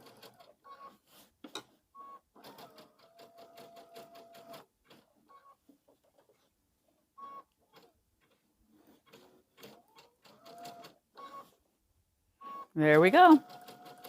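A sewing machine stitches letters onto a spooky door hanger, making quick rhythmic mechanical ticking in short runs with pauses, and a person speaks briefly near the end.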